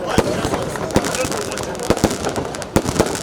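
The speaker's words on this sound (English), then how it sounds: "the fireworks exploded to signal the formal commencement of Christmas celebration in Anambra State" Fireworks burst over a Christmas celebration in Awka, Anambra State, a run of sharp explosive cracks and pops, several close together, over a steady crowd roar with voices mixed in.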